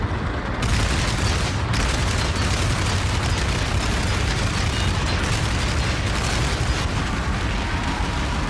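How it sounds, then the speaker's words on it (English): Dense, nonstop gunfire and explosions in a large PlanetSide 2 battle: loud, rumbling and unbroken for the whole stretch, with no pauses between shots. "Hearing a whole lot of guns."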